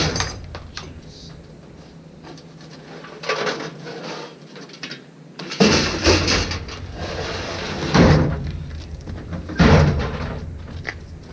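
Drawers of scrap furniture at a scrap metal yard slide open and shut, giving several wooden knocks and bumps around the middle and later parts, with handling noise between them.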